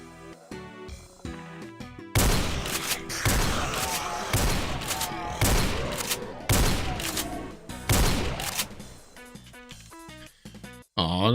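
Shotgun blasts in a Doom mod game arrive as five or six loud, heavy booms at roughly even intervals, each with a ringing tail, over game music and effects.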